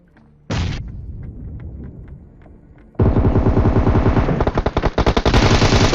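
Gunfire in a battle royale video game: a few scattered shots and thuds, then sudden sustained rapid automatic fire, loud and close, bursting in rattling volleys.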